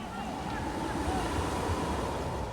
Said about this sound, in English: waves flood the streets of Kivalina